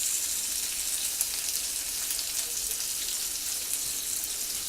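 Leftover roast onions sizzle steadily in a hot pan, a continuous close hiss of frying with no talking.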